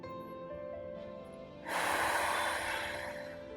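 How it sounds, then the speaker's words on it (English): During a yoga session, a sharp, breathy exhale bursts out after a quiet stretch, followed by a long, airy release of breath, close and soft. "Continue to breathe here."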